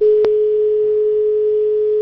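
A steady, loud electronic phone-line tone drones on a single pitch after a call-in caller drops off a television talk show. A brief click comes near the start.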